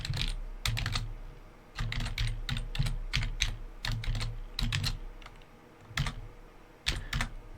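Fingers typing HTML code on a computer keyboard in quick clattering bursts of keystrokes separated by short pauses, close and crisp with no talk.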